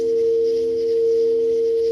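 Pure, steady meditation tones hum at a constant pitch, smooth and unbroken, with no voices, at a consciousness and contact gathering.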